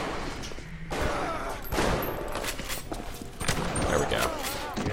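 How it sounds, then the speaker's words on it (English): Gunfire from enemies in the BioShock video game, repeated bursts of shots over dense game noise and music, with a person talking over much of it. "Someone is shooting at me."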